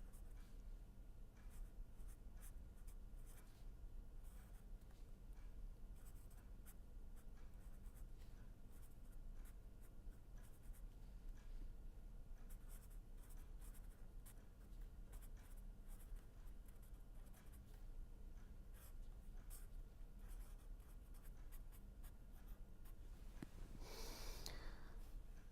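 Chalk or pen writing on a board during a mathematics lecture, a steady scratchy stroking that runs almost continuously and fairly close, with soft breathing-like noise underneath and no talk.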